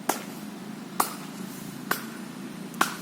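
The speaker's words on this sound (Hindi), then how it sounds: "ये क्लैपिंग की आवाज़ के लिए आई एम सॉरी" Claps from people exercising in a park, four sharp single hand claps spaced about a second apart, moderately distant over a quiet outdoor background.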